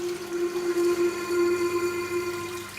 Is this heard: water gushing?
yes